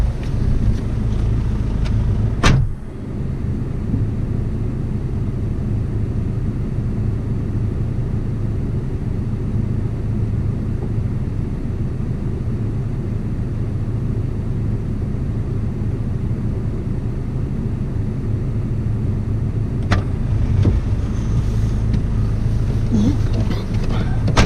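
A four-wheel-drive camper vehicle driving on an Australian road trip, its engine and road rumble a steady loud drone from inside the cab, with sharp clicks near the start and end.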